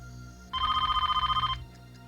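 A telephone bell rings once in a single burst of about a second, a rapid metallic trill over a low background hum.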